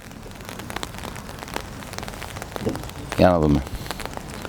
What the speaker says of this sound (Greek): Πάντα στο 0-0 με μια σιγανή βροχή σχετικά.